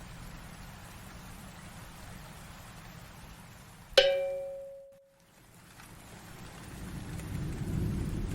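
Rain falls steadily through a rainy night, and midway a sharp thunder crack breaks out and rumbles away into a brief hush. The downpour then swells back, growing louder toward the end.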